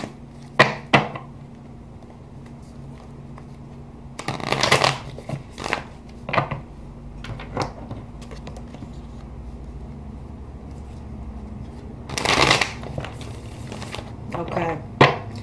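A tarot card deck shuffled by hand in a quiet room: two brief papery riffling bursts a few seconds apart, with soft taps and handling noises between them.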